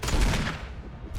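Gunfire in the Resident Evil remake, a short loud burst of rapid shots that fades within about a second, heard alone.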